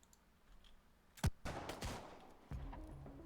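Rifle fire in a video game, a sharp single shot followed by a few more loud bursts and trailing reports, spaced unevenly over a quiet background.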